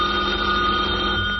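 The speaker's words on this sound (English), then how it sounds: "Robert Gardner is just leaving for the office as the phone rings" A telephone rings in a house in the morning, a steady electric bell tone held throughout, fairly loud and alone.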